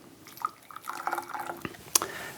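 Hot water poured over teaware from a pitcher, close trickles and splashes with a few drips and a clink of porcelain near the end.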